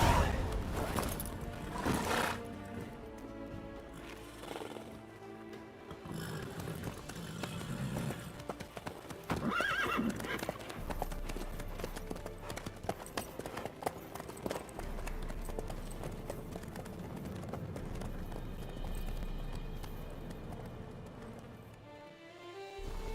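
Horse hooves clip-clop in The Witcher 3, a rhythmic trotting patter mixed with game ambience and scattered clatter, moderately loud and fairly close throughout.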